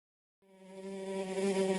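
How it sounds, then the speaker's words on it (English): Mosquitoes buzz in a steady, whining drone that starts abruptly after a short silence and swells slightly louder toward the end, with no voices. "Mosquitoes, tiny creatures with a huge impact."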